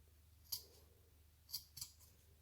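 Three quick snips of scissors trimming protruding fabric labels on a flat baby comforter, faint and close against a quiet low hum.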